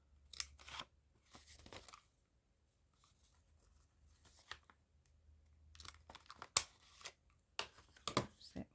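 Paper corners being rounded off an envelope with scissors, a close, quiet run of crisp snips and crunches in short clusters separated by near silence.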